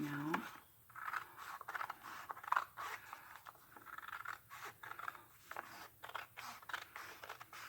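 Scissors snip through fabric strips being cut for handmade flowers, in soft irregular cuts with light scraping, heard close beneath someone talking quietly.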